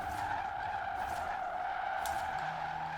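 Electric drift car in Forza Horizon 4 sliding sideways, tires skidding in a sustained squeal over a low hum, steady and close.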